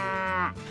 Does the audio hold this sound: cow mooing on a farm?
yes